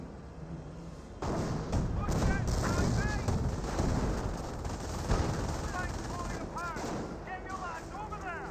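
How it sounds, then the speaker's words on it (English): Hotchkiss tank main gun booming repeatedly in a Company of Heroes 1 battle, loud heavy reports layered over continuous gunfire and explosions, with a voice talking throughout. "I just realized Hotchkisses have the same sound effect of its main gun as the Bofors."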